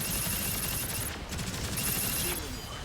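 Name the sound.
gun firing in the video game Gundam Evolution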